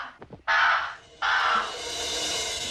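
A crow named Tut cawing: two loud, harsh caws close by, the second longer and trailing off, after brief softer sounds.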